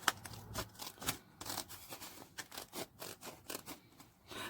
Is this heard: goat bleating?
no